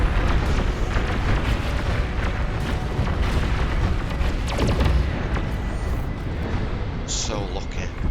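Incoming missiles exploding in the strategy game Beyond All Reason, a dense, loud barrage of booms and rumbling blasts rolling almost continuously, with a voice talking over the battle.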